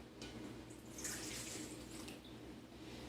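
Room-temperature water poured into a bowl for blooming yeast for sourdough pizza crust, a steady close splashing pour lasting a few seconds over a low background hum.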